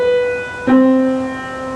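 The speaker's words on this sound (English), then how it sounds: "And then the sound of the major seventh." Two piano notes a major seventh apart, the first a sustained tone, then a second note struck and ringing alongside it, clear and near with no talking.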